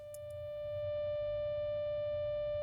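An electronic puzzle tone in a video game, a clear sustained steady beep with a bright harmonic buzz, rising from a soft start after two brief clicks and holding level over low background hum.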